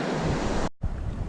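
Ocean waves and surf at the beach, a loud continuous wash of breaking water and wind noise on the microphone, briefly cut out then resuming just as strong.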